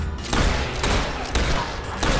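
A dense volley of gunfire in the Fable 3 video game, loud and continuous bursts of overlapping shots with sharp cracks recurring roughly every half second.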